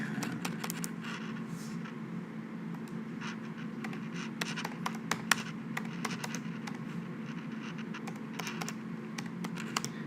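Rapid, close computer keyboard typing with crisp irregular clicks running steadily throughout, over a low room hum and with no voices.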